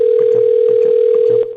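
A steady telephone tone sounds while waiting for someone to pick up, holding level for over a second before cutting off.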